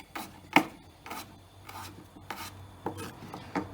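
Broccoli being roughly chopped on a board, a handful of separate knife strikes and scraping rubs spaced unevenly, close and fairly quiet.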